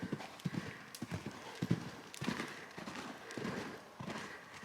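Hooves of Merlin, a horse cantering through a lead change, beat out a steady three-beat clip-clop rhythm on soft footing. The sound is moderately close, with faint background noise.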